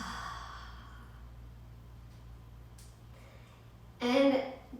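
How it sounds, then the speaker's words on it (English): A deep, breathy exhale through the mouth during a yoga breathing exercise, a soft airy rush that fades, followed by a louder sighing breath near the end. "exhaling through the mouth"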